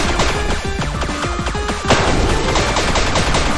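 Rapid gunfire and explosive hits crackle nonstop through a frantic arcade shooter section of a Danganronpa fangame, with dense overlapping shots and a louder burst about halfway through.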